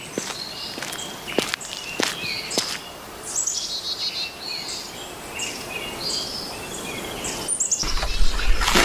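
Birds chirp outdoors in Jamaica, with repeated thin high calls scattered through the scene over steady footsteps and light rustling, moderately distant, with no talk.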